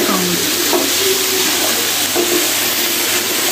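Green beans and minced meat fry in a pan with a steady, dense sizzle and crackle throughout, close and continuous with no talking.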